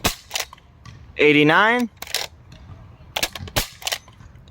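A modded Nerf Desperado blaster firing half darts, with crisp cap-gun-like bursts of snapping shots at the start, middle and end, loud and close, around a voice saying a number.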